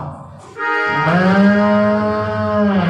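A human voice imitating a cow's moo during a storytelling performance, a loud, close, drawn-out lowing tone held for about two seconds after a brief lead-in.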